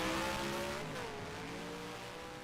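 A race car in NASCAR Racing 2003 at New Hampshire Motor Speedway spins out, engine whine sliding down in pitch while tires squeal, fairly loud and close, with no talking.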